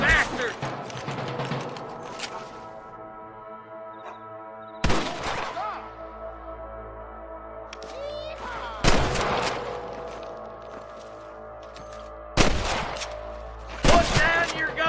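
A Red Dead Redemption 2 gunfight crackles with sharp, loud gunshots in several separate bursts, each ringing out into a sustained tonal wash between volleys.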